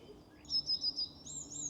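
Birds singing outdoors in the countryside, a bright high warbling song in quick repeated phrases, fairly close and clear over a quiet background, with no talking.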